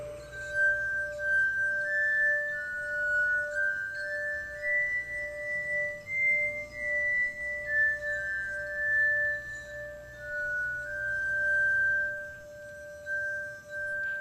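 Musical glasses are played by rubbing their rims, giving sustained pure ringing tones that slowly glide and shift in pitch, with one steady lower tone held throughout.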